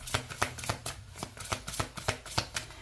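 Tarot cards shuffled by hand in a steady riffling rhythm, about ten crisp bursts at close range, loud and clear with no talking.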